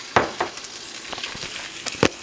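Egg cooking in a pan over lowered heat for a breakfast burrito, with soft sizzling and a few louder crackling pops and clinks scattered over the short stretch.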